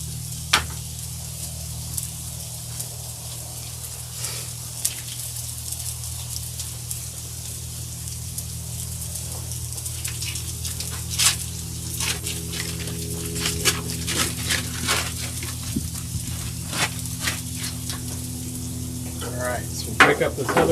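Cream cheese pasta sizzles and fries on a Blackstone griddle, a constant crackling hiss with sporadic sharp pops and scraping stirs throughout, the cooking noise growing busier toward the end with no talk.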